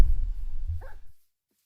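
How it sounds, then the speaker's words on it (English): A dog in the video game Minecraft barks once, a short close yip. "Where did the dog go?"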